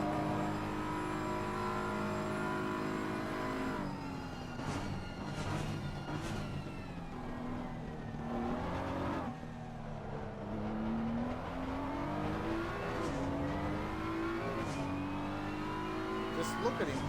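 A race car engine in an Xbox racing game on the Spa circuit roars and revs steadily, rising and falling through gear changes as it accelerates away, with a commentator talking over the continuous engine drone.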